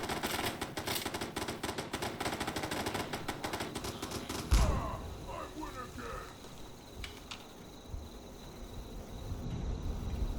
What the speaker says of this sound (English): Oh, it's shooting at something.